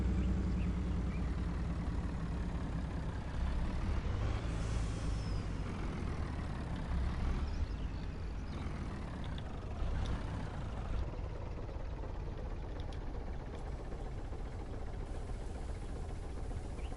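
A vehicle hauling a trailer on a large dairy farm makes a steady, close engine rumble with a brief hiss like an air brake, and no one talks.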